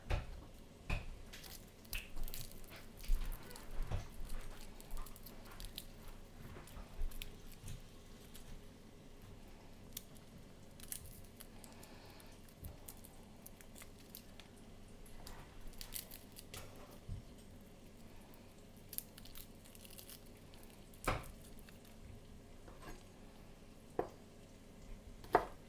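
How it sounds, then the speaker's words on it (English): Garlic cloves being peeled by hand at close range, giving faint papery crackles and small scattered clicks over a steady low room hiss, with no speech. "take the jacket off of all of our garlic"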